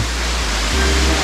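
Dense, steady roar of a waterfall in Capitolio, Minas Gerais, Brazil, a broad unbroken rush of falling water heard close and loud throughout.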